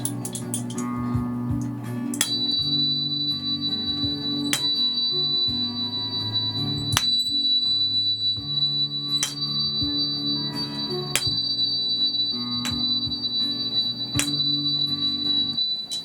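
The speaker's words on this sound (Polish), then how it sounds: "dźwięk tonacji D." Tuning fork struck in the key of D for sound healing, a steady ringing tone with overtones, re-struck about every two seconds so the strikes overlap into a continuous sustained hum.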